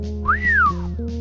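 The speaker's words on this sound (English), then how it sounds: "Z gives a low whistle." A video game character gives a single rising-then-falling wolf-whistle-like tone, clear and close, over a steady low background music drone.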